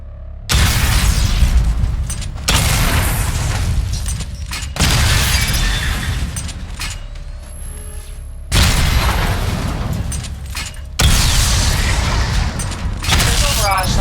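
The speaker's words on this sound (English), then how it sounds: "Charge the missile barrage to level 2 to destroy up to 4 targets at once" Missile barrage explosions in the Batman Arkham Knight game boom loudly in four or five heavy bursts, each with a rumbling, crackling tail, separated by short quieter gaps.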